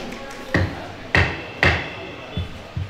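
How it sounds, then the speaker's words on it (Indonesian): A gavel strikes during a cooperative's annual members' meeting, three sharp wooden knocks in quick succession followed by two softer taps, loud and close in a quiet room. "Silakan ketok palu."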